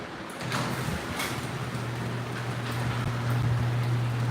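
A big door is opened with a button, giving a steady low motor hum and mechanical rumble that starts abruptly and runs on continuously, with a few light rattling knocks over it and no talk.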